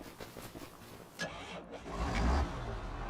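Tractor engine in Farming Simulator 25, hooked to a cultivator, idling and then rising into a louder, heavier rumble as it revs, with a brief mechanical clunk near the middle.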